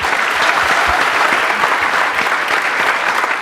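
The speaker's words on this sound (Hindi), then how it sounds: "Big round of applause for both of them." An audience claps continuously and energetically for two participants on a science and fun show, a full, dense round of applause held steady throughout with no speech over it.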